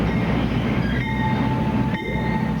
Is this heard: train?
yes